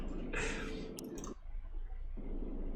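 A single sharp mouse click during play of the PC game Flying Sword, a brief near tick set against steady game background sound.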